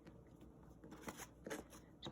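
A deck of tarot cards is shuffled in quick, soft riffling snaps and papery rustles, close but quiet, over a faint room hum.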